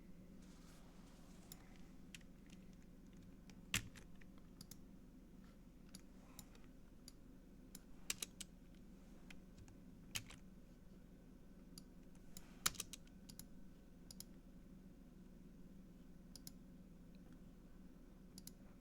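Someone types on a computer keyboard in scattered, irregular bursts of light key clicks, with a few sharper taps, quiet against a low steady hum.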